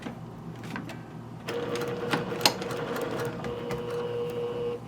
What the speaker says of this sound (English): So we're going to top stitch 1/4 inch, and it needs to be pretty accurate at that 1/4.